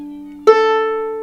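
A freshly tuned violin's open A string rings out as one bowed note, starting suddenly and sustaining a bright, steady pitch up close with nothing else playing.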